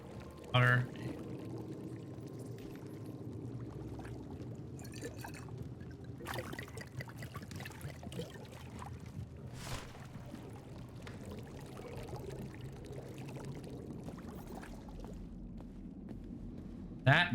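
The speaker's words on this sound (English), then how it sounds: "Water." Steady pouring and trickling water from the game Indiana Jones and the Great Circle, a continuous liquid wash heard beneath game ambience and a talking voice throughout.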